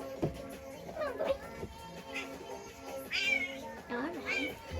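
A three-legged cat meows repeatedly nearby, a run of drawn-out complaining cries, while a person talks softly to it in between.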